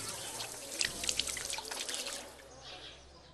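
Water released from a courtyard fountain splashes and patters in a busy, irregular spray of drips that swells then thins out, close by with no one talking over it.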